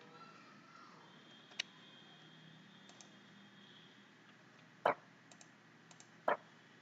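A computer mouse clicks a few times at a desk during a JavaScript coding session, with sharp isolated clicks at irregular intervals over a faint background hum, close and fairly quiet.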